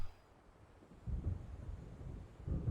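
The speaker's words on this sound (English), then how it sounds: "It seems there's a storm coming." Low rumbling thunder from an approaching storm over open water in the horror game Alan Wake, rolling faintly at first and then swelling into two deeper, louder swells, with wind noise behind it.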